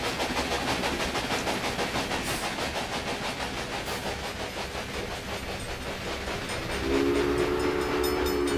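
Trains rolling along the tracks in the railway-building video game Railway Empire, a steady dense rumble of wheels and cars that continues throughout, with a sustained horn-like tone rising near the end.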